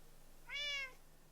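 A single cat gives one clear, short meow at moderate distance, rising and falling over about half a second against a quiet background hum.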